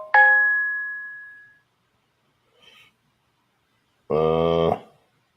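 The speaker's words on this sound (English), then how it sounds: "notifications" Digital notification sounds: a bright chime rings out and fades over about a second, a faint blip follows, then a short buzzy electronic tone, all clean and close with no talking.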